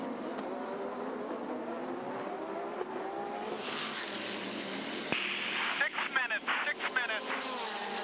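Porsche race car at the 2008 ALMS Long Beach street race accelerating hard off a corner, a loud roaring engine climbing in pitch with rapid upshift stutters, heard under continuous commentary.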